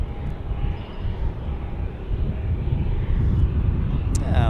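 An Alaska Airlines airliner taxis at Albuquerque airport toward a runway in a southwest wind, giving a steady low engine rumble with a faint whine, heard from an observation deck with wind noise and people talking.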